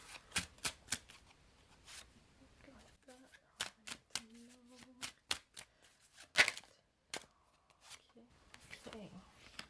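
Tarot cards shuffled by hand for a reading, riffling in quick repeated bursts close up, with pauses between runs and a few soft murmurs.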